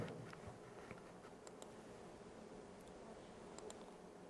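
A very high, steady hearing-test tone rises faintly above a soft background hiss and holds for about two seconds before cutting off abruptly, sounding thin and piercing.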